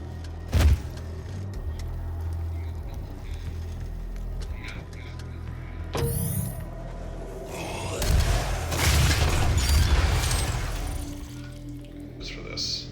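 Rocket launcher blasts in the video game DOOM 2016 land as a few sharp booms, one early and a loud burst of explosions later on, mixed with other game sounds while people talk.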